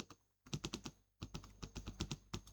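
Quick runs of typing on a computer keyboard while a field is filled in, with a short pause between two bursts of clicky keystrokes, close and clear, with no voices.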